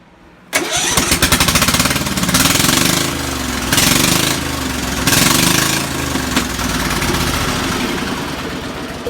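An engine cranks and catches abruptly, then runs loud and close at a steady idle with a rough, rhythmic throb and a few surging swells, nothing else heard over it.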